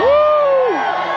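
A crowd at a Victorian-themed Dickens holiday festival lets out a single loud, sustained cheer and whoop that trails off, heard close and filling the space.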